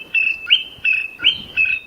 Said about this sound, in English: This is a honey guide, a small bird, usually brown, that lives in Africa and Asia